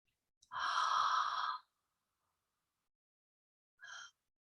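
Relaxed breathing during a conscious connected breathwork exercise: a long, close, airy exhale lasting about a second, then silence and a short soft breath afterward.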